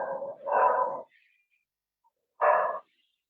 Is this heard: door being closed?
no